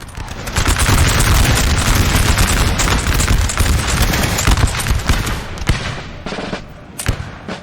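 Musket volleys in a Napoleon Total War battle, loud and continuous rolling fire with many overlapping shots, thinning into scattered separate cracks toward the end, with no talk over it.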